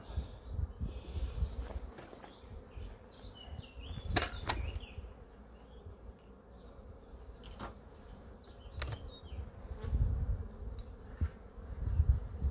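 A honeybee swarm buzzes outdoors while being transferred into a hive, a dense steady drone with individual bees zipping close past at intervals and occasional knocks and handling sounds.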